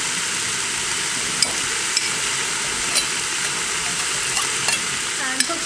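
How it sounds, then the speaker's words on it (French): Minced onion and a garlic clove fry in a pan with a loud, steady sizzle, broken by a few faint clicks of stirring, close and with no talk. "on ajoute l'oignon émincé et la gousse d'ail et on va le faire dorer aussi un petit peu à son tour"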